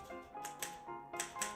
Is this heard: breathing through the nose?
no